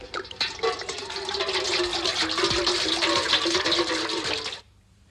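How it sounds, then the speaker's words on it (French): Water runs steadily from a kitchen sink tap for several seconds, a dense splashing hiss that cuts off abruptly near the end. "Tiens, le robinet de l'évier."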